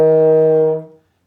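Trombone sounding a single sustained high E flat in third slide position, one steady brassy note of about a second, loud and close, that fades away cleanly with no talk.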